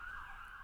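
An ambulance siren from a road about 20 metres from a shed wails faintly and steadily in the distance for a brief moment.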